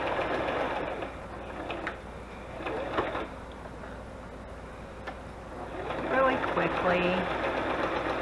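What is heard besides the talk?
sewing machine stitching around a matchbook with brown thread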